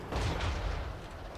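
Cannon artillery fire in a Warhammer-style fantasy battle game, sustained low booming rumble with dense overlapping blasts, loud and continuous without a clear break.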